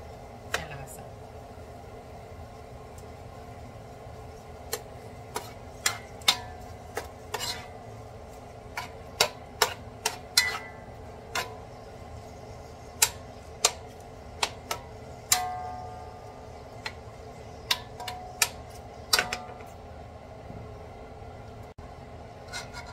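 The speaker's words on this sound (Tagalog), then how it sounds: "hinalo ko na sila lahat" A utensil stirs canton and bihon noodles with their ingredients in a pan, giving repeated sharp scraping clicks and taps at an uneven pace over a steady background hum.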